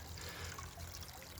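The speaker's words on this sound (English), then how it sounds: "water flows through the gravel back into the pond" Pond water trickling through a gravel-filled bog filter in a tropical garden, a soft, continuous gurgling flow, faint and unbroken, with no voices.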